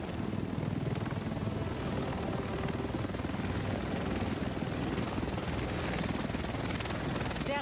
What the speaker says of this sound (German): Der Rest von uns sitzt in diesem Heli.